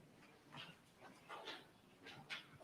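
A dog whimpering and giving soft yips at a distance during a Christmas Eve family worship gathering, several faint, quiet bursts over steady room noise.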